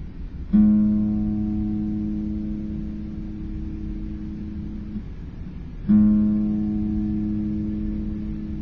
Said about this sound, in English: Fifth string, the A string,